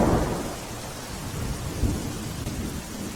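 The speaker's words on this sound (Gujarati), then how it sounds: "જિલ્લાના વિવિધ તાલુકાઓમાં ક્યાંક ધીમી ધારે તો ક્યાંક ધોધમાર વરસાદ પડી રહ્યો છે" Heavy rain pours down steadily as a loud, dense wash, with a deep rumble of thunder rolling underneath and no voices.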